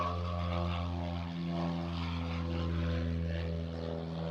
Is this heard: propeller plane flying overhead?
yes